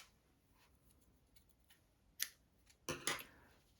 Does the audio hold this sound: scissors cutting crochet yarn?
yes